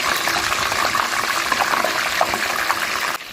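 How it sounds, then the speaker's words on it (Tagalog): Crispy pata, a whole pork leg, deep-fries in hot cooking oil with a loud, dense bubbling sizzle and scattered pops, steady throughout before dropping off abruptly near the end. "iprito na po natin ang bida, ang ating crispy pata"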